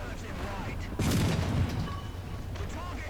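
In War Thunder, a British Matilda III heavy tank fires its cannon in a WWII-era battle: one sudden loud boom with a rumbling tail, set against steady engine drone and a voice talking.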